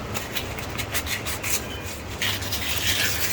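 Steady, close abrasive rubbing of sandpaper on a handmade ferro rod handle, rounding it off in continuous back-and-forth strokes with no pauses.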